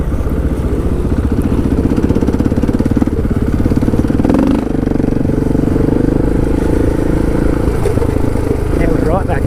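A dirt bike engine thrums steadily up close during a group adventure ride, loud and continuous with slight rev changes, while a rider talks over it.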